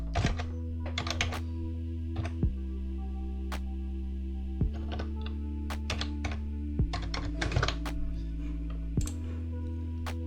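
Code being typed on a computer keyboard, a steady run of close, crisp key clicks and clacks in uneven bursts over a constant low electrical hum, with no talking.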